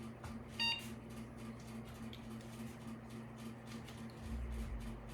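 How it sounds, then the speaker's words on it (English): A desktop PC and its connected equipment power on, giving a short faint electronic beep over a steady low hum and hiss, with a deeper buzz rising near the end. "I'm going to go ahead and power on everything with the PC"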